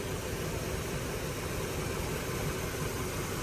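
A 1979 Chevrolet Camaro engine idles steadily at low volume, a constant broadband rumble with no variation and no talk.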